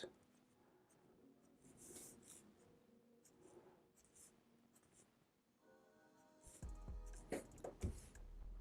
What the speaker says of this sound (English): So you're literally drawing in each tooth.